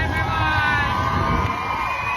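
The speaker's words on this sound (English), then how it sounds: "Say hello to the amazing crowd here." A large crowd roars and cheers continuously at a Grand Prix de France figure skating event in Angers, a dense, loud wash of shouts and whoops filling the arena without a break.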